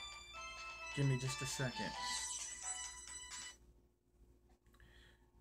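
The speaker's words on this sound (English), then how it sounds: "my mom's phone's going off" A mobile phone ringtone sounds nearby as a tonal melodic ring that plays for a few seconds and then stops, while a person talks briefly over it.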